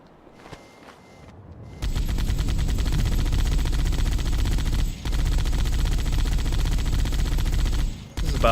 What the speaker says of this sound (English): This is about what you'd expect from a Warthog turret.